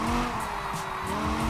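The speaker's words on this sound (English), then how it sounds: "Oh my god, this car just wants to slide." A rear-wheel-drive car slides through a turn, its tires squealing loudly and continuously with engine noise beneath, close and sustained.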